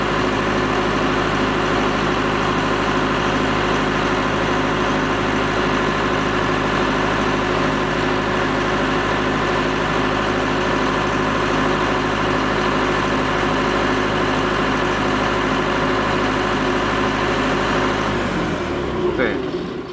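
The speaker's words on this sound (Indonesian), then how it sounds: "genset ini bisa kita stop secara manual. Dia sedang melakukan pendinginan." A Multipro SDG 30000 AS diesel generator idles steadily while cooling down, a loud, even low-pitched engine drone with constant hum that cuts out and winds down at the very end as it shuts off.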